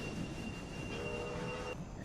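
A train rolling along track in the Railway Empire video game, a steady rumbling bed of rail noise with a thin sustained wheel squeal rising partway through, continuous and moderately loud with no talking.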